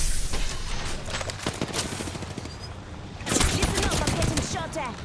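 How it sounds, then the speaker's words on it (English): Rapid bursts of automatic gunfire in an Apex Legends-style shooter rattle loudly and close, pausing briefly before a second heavier volley with sharp impacts, and no one speaks over it. "Listen up, I'm getting shot at."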